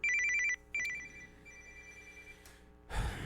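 A telephone rings with two bursts of trilling electronic bell tone, fairly close, followed by a quieter lingering tone and then a rustling clunk as it is picked up.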